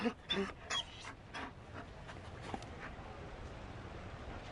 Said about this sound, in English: You found a dog?